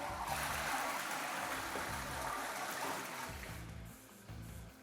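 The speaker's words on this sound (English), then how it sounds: "And we'll just give it a flush." A household toilet flushes with a steady loud rush of water for several seconds, then tapers off into a quieter trickle.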